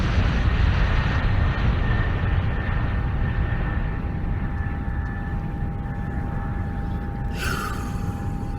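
Airliner taking off, a loud sustained roar of jet engines heard from inside the cabin, steady and broad with a faint whining tone running through it, and a brief higher hiss near the end.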